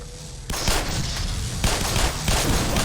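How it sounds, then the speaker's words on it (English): Rapid gunfire from the Black Mesa video game, pistol shots mixed with enemy weapons, loud and dense bursts crackling continuously after a brief quieter start, with no talking over it. "I just realized my pistol has a different sound than theirs"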